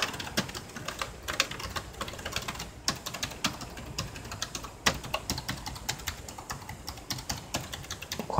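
Rapid clicking of keys on a laptop keyboard whose circuit is broken, so several keys do not respond. The presses come in quick, uneven bursts with a few harder taps, close up and with no voices.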